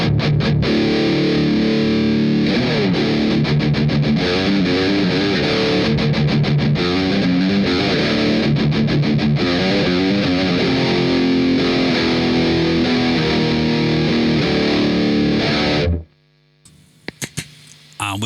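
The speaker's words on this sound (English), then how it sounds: "And this is what it sounds like without Tube Screamer" Electric guitar through a Marshall MG100 HDFX amp on its Overdrive 2 channel with no Tube Screamer, loud continuous distorted chords and riffs for about sixteen seconds, then cut off, leaving hum and a few small clicks.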